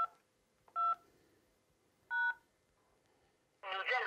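Three short telephone keypad tones entering a phone number, spaced unevenly and crisp against near silence, followed by a brief burst of another electronic tone at the end.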